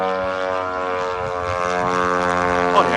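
A Ukrainian FP-1 propeller drone flies with a loud, steady buzzing whine rich in harmonics, sustained for the whole stretch without voices.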